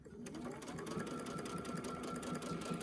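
A sewing machine runs steadily while stitching a cornhole bag, a continuous close mechanical whir with a fast, even stitching rhythm throughout.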